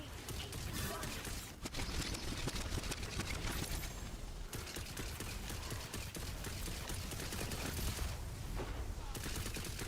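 Two-shot burst semi-auto guns fire in the Tiny Tina's Wonderlands video game, producing dense, rapid gunfire that crackles almost without pause amid busy combat noise.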